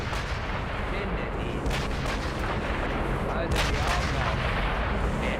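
Heavy rifle gunfire and booming blasts from the war shooter Sniper Elite V2 Remastered, set at the Tiergarten flak tower, several sharp reports over a dense, continuous rumble of battle noise.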